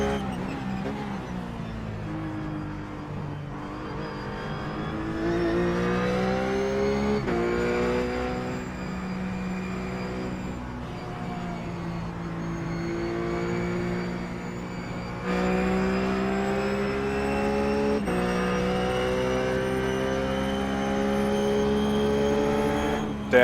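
A RUF GT race car engine in iRacing at Road America, holding a loud, sustained tone that climbs with the revs through several gear shifts, with no voices over it.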